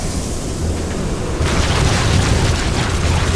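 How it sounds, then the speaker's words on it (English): Gas venting through an infested facility in a StarCraft 2 Heart of the Swarm cutscene: steady low rumble, then a sudden loud, broad rushing blast that continues. "Release the gas."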